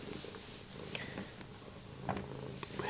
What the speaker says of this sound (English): And right on cue, here comes the cat.